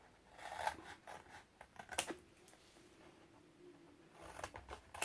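Paper or chipboard being cut for a gatefold binding gives a few quiet, close snips and crisp rustles spaced over several seconds, with one sharper cut in the middle.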